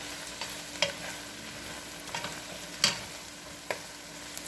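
Mushrooms frying in a pan for a chicken pot pie casserole are stirred: a low steady sizzle broken by several sharp scrapes and clinks of the utensil, close and fairly quiet.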